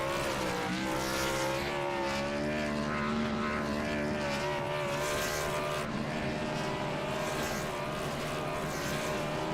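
Xfinity Series race car engines at Sonoma in iRacing give a constant, layered droning whine of several motors, steady and fairly loud from start to finish.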